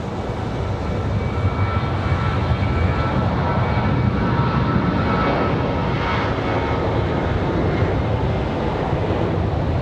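A United Airlines jet departing Raleigh-Durham airport gives a steady, loud broadband engine roar that holds for the full stretch with little change, mixed with some wind rumble at the microphone.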